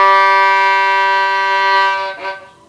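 A violin sounds its open G string with a full bow stroke, a steady, rich sustained tone held close and loud for about two seconds before the bow changes and it fades.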